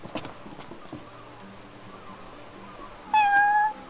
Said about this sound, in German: Oh. Eine Katze.